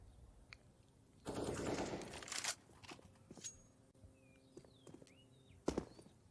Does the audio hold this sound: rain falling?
no